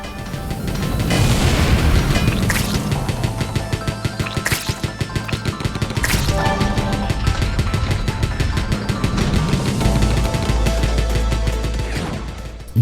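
Rapid bursts of rocket launches and explosions from a roguelike tower defense video game, loud and dense with booming impacts and clattering gunfire-like volleys running continuously without speech.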